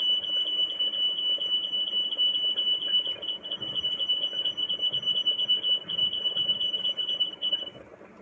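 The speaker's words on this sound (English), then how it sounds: "The fire alarm." A high, steady fire alarm beeps continuously, a piercing repeated tone sounding over low room noise and faint background chatter during a Fortnite session while dinner is being made.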